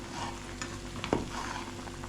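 Onions and fresh pepper being stirred together in a pot for a plantain pepper soup with cow meat, a village kitchen scene, with a steady low sizzle and a brief louder scrape of the spoon partway through.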